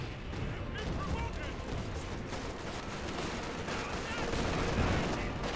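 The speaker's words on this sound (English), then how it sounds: "IR Pathfinder's rifle grenade there." Dense, continuous battle noise from Company of Heroes 2 with gunfire and explosive bursts throughout, a rifle grenade among them; loud and busy, with a commentator's voice faintly mixed in.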